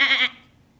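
A human voice imitates a sheep's bleat in one short, loud, nasal cry that cuts off abruptly.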